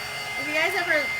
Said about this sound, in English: It's kind of cool with these dryers because you can see things like dry.